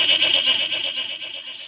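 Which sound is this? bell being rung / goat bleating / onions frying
goat bleating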